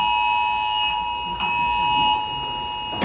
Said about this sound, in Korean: 경보하는데요. 지진 올라고 그러나 본데.